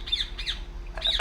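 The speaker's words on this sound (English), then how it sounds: "What the hell's up with that bird?" A bird in the video game République squawks three times in quick succession, sharp and fairly close, each call a short raspy cry.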